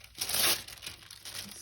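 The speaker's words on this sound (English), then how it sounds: "So we'll just tear" Paper torn by hand for a mixed media journal page: a close, brisk rip with crinkly rustle, rising in a loud burst then trailing into softer tearing and crinkling.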